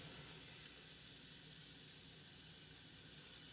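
Sausage frying in a pan, a constant broad sizzle and hiss that stays even and moderately loud from start to finish, with no talking.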